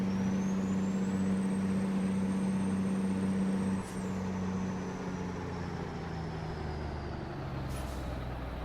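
A truck engine rumbles steadily in American Truck Simulator, its low drone loud and continuous, with a high whine and a brief air-brake hiss partway through.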